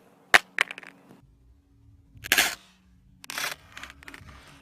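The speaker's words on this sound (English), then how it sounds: "I'm going to try and drop it face down, see if it would crack" A Samsung Galaxy S6 Edge drops onto a hard surface with its rear glass facing down, giving a sharp clack with a quick rebound, then a louder clattering impact and further rattling as it settles.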